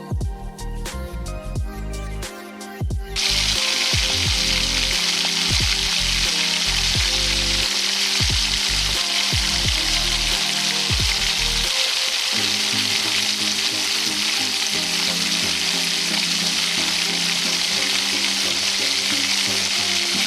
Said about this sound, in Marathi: कढईमध्ये तेल टाकून जिरे लसूण आणि हिरव्या मिरचीची फोडणी दिलेली आहे